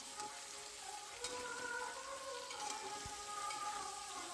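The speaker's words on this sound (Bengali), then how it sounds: "ইঁচড়টা তেলে ভেজে সুন্দর করে কষিয়ে করব" Boiled jackfruit frying and being stirred in hot oil in a home kitchen, a steady soft sizzle with faint scraping and occasional clinks of utensils throughout, with no talking.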